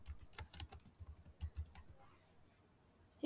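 Fingers type a city name on a computer keyboard, a close burst of quick irregular key clicks for about two seconds, then a pause with a single last tap.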